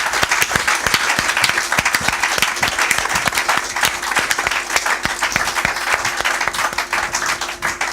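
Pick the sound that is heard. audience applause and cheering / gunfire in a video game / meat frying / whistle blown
audience applause and cheering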